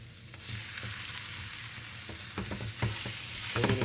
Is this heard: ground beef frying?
yes